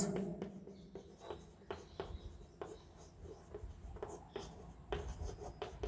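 A pen scratches across paper in short bursts of writing strokes, close and fairly quiet, with small pauses between words and no talking.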